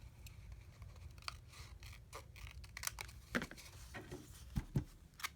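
Scissors cut a piece off a small cardstock file card. The snips are close and crisp and come irregularly, with a few sharper cuts near the end and a little quiet rustling of paper between them.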